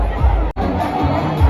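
A dense crowd packs a Shiva temple for a Ganesh festival program, a steady hubbub of overlapping chatter close around with a brief dropout partway and a few louder bursts.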